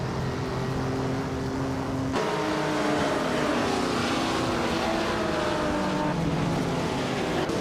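Several race cars tear around a track in a video game, their high-pitched engines whining and shifting pitch in overlapping layers, with a sharp cut partway through to another burst of loud, continuous engine drone.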